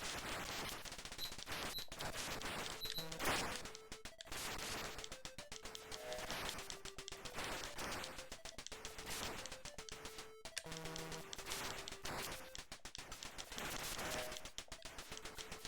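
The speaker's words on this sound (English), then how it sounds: "they can shoot at you from close range too" Dense, relentless enemy gunfire from the arcade shooter Vulgus, rapid shot blips and bursts crowding the whole passage alongside tonal game effects and music, loud and continuous with no talking.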